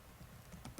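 Quiet keystrokes on a computer keyboard while working at a CentOS 7 terminal, a few soft scattered clicks ending in a firmer press of the enter key.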